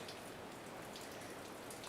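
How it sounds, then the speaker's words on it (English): Steady, faint rain falls during a storm in Mountain View, San Diego, a continuous even hiss of drops with no breaks or voices. "we've been getting plenty of rain here in Mountain View as well"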